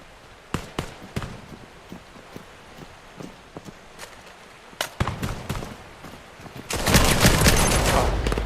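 Gunfire from a Quest 3 VR shooting game: scattered single shots and sharp cracks build into a dense, loud burst of rapid fire near the end.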